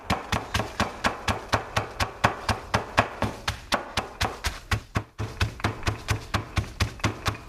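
Chopped broccoli pounded with a dough roller, a steady rapid run of close, firm thuds about four per second, loud and even, briefly pausing once before resuming, with no talking.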